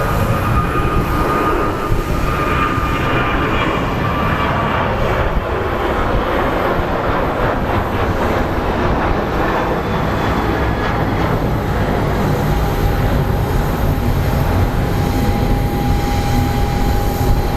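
American Airlines flight 994 departing Sky Harbor International Airport in Phoenix, a loud continuous jet engine roar with a whine that drifts in pitch as the aircraft climbs away.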